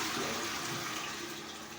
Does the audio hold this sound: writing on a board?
no